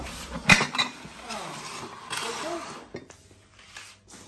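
Dishes and pots clink and clatter during washing in a home kitchen while preparing tomato sauce, with a sharp knock near the start and ongoing rattling, and people talking over the clatter.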